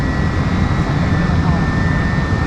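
Steady roar of a JSX jet's engines heard from inside the cabin of a roughly 30-seat aircraft, a dense, constant broadband rumble with a faint high whine, under a voice.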